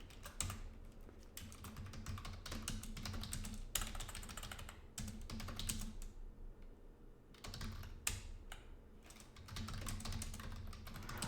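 Steady, close typing on a computer keyboard in quick bursts with brief pauses, running alone at a moderate level.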